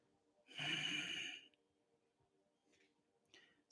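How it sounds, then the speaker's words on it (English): A single close, breathy exhale during a slow hatha yoga stretch, lasting about a second, then near silence with a few faint ticks. "and then breathing out"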